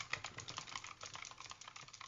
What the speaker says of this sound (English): Kind of getting a little bit louder with the keyboard.